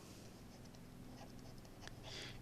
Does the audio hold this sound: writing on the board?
yes